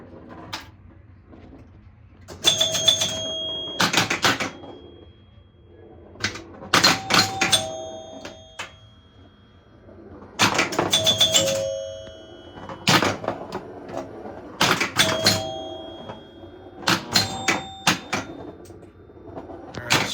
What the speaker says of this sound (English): Got the chimes hooked up this time.